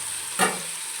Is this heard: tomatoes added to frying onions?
yes